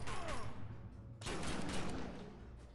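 Rapid gunfire in a video game rattles continuously at close range, a dense crackling barrage with a brief break partway before it resumes.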